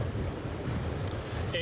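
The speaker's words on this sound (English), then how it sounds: "just the waves and the wind" Ocean waves and wind during Storm Nicole on the Atlantic coast: a steady, dense roar of surf and gusting wind, loud and continuous with no pauses.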